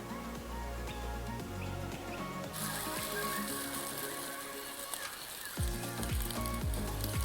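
A toasted sandwich sizzles in a sandwich press, a steady crackling hiss that runs throughout at moderate level, with brief quieter dips and some faint background noise.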